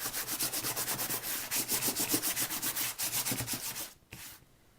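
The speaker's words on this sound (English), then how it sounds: "what we did in the class is to sand the edges and then across the top too" A paper craft mat has its edges and top sanded by hand in quick, rhythmic back-and-forth strokes, close and scratchy, before the rubbing slows and stops.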